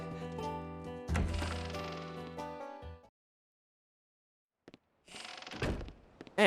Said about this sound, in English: Let's go ahead and head out this door here